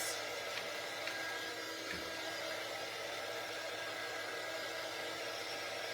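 A hair dryer blows continuously on a patriotic craft frame, a steady even whoosh of rushing air that holds unchanged throughout, with a few faint handling clicks.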